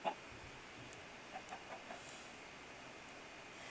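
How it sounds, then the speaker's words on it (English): Chicken clucking in Minecraft, a few faint, short clucks scattered over a steady background hum, distant and quiet. "More chicken."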